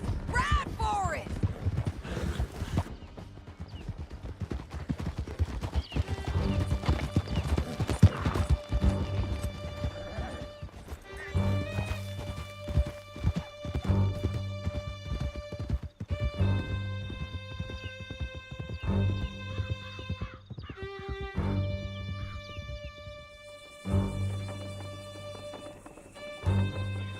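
Horses clip-clop at a gallop in Red Dead Redemption 2, hoofbeats mixed with clatter, harness jingles and crashes, with voices speaking over parts of the ride.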